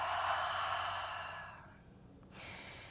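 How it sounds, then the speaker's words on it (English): A long, airy exhale during a yoga flow, soft and close, a gentle rush of breath that fades out before a brief second breath begins. "Exhale."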